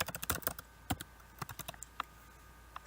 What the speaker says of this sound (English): I just type out what I want